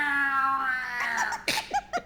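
A male cat lets out a drawn-out, wavering meow, followed by several short, sharp mews in quick succession, close and clear with no talking.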